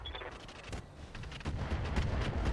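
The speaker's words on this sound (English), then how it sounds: "Not the finest long tom shot I've ever seen, but it'll do." Long Tom artillery firing in the mech combat game RogueTech: a dense run of booming, crackling blasts that grows louder and heavier toward the end, with no voices.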